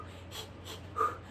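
A voice imitates rapid labor panting, with about three quick, short breaths in a row, close and soft, followed by a slightly louder final puff.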